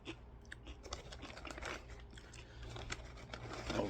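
Someone crunches Doritos Sichuan Peppercorn Chicken and Garlic Steak tortilla chips, with close, steady crisp chewing and cracking bites that run on for several seconds with no talk.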